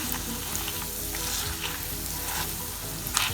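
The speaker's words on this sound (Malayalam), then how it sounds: "ഇനി നമുക്ക് നെയ്യിൽ നന്നായൊന്ന് വഴറ്റിയെടുക്കാം." Chopped dates sauté in ghee in a pan while being prepared for a sugar-free makhana dry fruit ladoo, giving a loud, steady sizzle with occasional scrapes of stirring.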